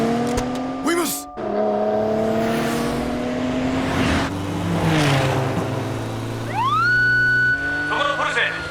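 An anime police motorcycle chases a Porsche. A car engine rumbles and rushes past, then a siren wail rises sharply and holds near the end, loud and close.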